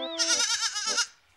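A goat gives one loud, close bleat that wavers for about a second and then cuts off, standing alone with no other sound around it.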